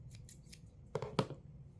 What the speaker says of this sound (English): I'm gonna take a bigger one and cut it in half